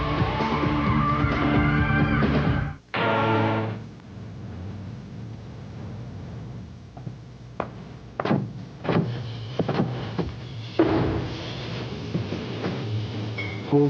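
A Toyota Supra sports car drives hard and skids, tires squealing in sharp bursts over loud engine roar, with sudden cuts between shots in a punchy commercial mix.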